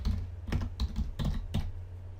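Keys clack on a computer keyboard as a file name is typed for a new shapefile in QGIS, five distinct bursts of keystrokes in a quick uneven rhythm, close and fairly clear over a low steady hum.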